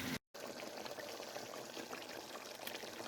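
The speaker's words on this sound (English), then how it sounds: "I went ahead and add in some of the liquid from our beans." Liquid from lima beans being poured into a cooking pot of stewed pork bones, a steady soft wash of pouring that runs almost the whole time after a brief silent gap at the start.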